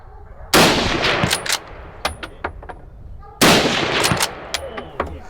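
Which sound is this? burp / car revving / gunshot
gunshot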